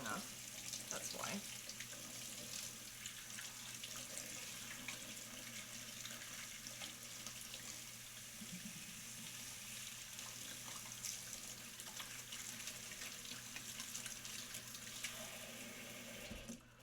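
Hot water runs steadily from a tap for a long stretch, a continuous hissing rush that stays even throughout and cuts off at the end, with faint voices in the background.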